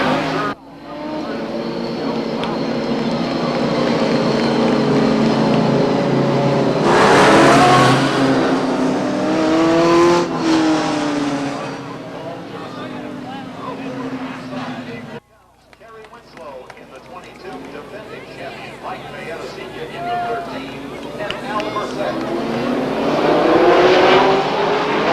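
Stock cars race at Beech Ridge Motor Speedway in 1991, among them Steve Howard's 1986 Buick Century from Scarborough, Maine: loud continuous engine roar that swells and fades as cars pass, under steady announcer commentary.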